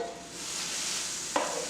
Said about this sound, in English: we're just going to continue to brown this turkey